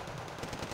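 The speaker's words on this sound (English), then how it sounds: "I've got these 2 Warrior 90s on the right firing against the Zanshi as well" Rapid, steady bursts of Warrior 90 autocannon fire during a tree-line skirmish in Wargame: Red Dragon, rhythmic thumping shots sitting in a loud, dense battle wash.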